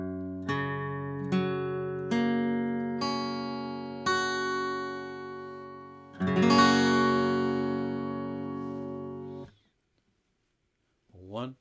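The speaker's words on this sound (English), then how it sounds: "So your open string pitches sound like this." Guitar open strings in open D tuning with a capo at the fourth fret, plucked one at a time in six rising notes that ring and overlap, then strummed together as a full sustained chord that fades out before a brief voice at the end.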